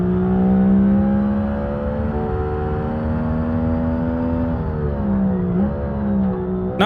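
A car engine in the racing game Automation holds a loud, steady high drone and then climbs in pitch as it accelerates, with a brief dip near the end, alone without talk.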